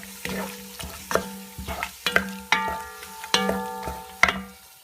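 Meat and onion for akeni frying in a pan, a utensil scraping and stirring in repeated strokes roughly every half second, close and fairly loud with a steady sizzle underneath.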